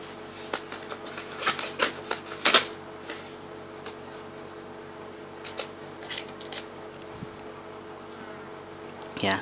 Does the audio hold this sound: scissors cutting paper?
yes